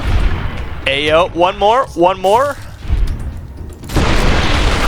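Munitions blow up in Fallout New Vegas with heavy booming blasts, loud and close, the rumble returning strongly near the end, while someone talks over the first half.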